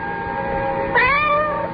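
Cats meow in an old-time radio mystery drama: a drawn-out, wavering meow rises over a steady humming background, moderately close, with no talking.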